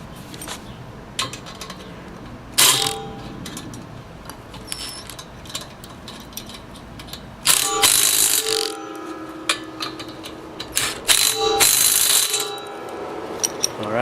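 Bolts are tightened with a ratcheting wrench while assembling a Harbor Freight cement mixer, with bursts of clicking ratchet strokes and metallic clinks, loud and close, separated by quieter pauses.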